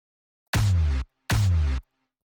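Two separate snare hits from an original sample pitched in the key of C in FL Studio, each a loud, sustained noisy burst with a tonal body, spaced evenly and heard alone with nothing else.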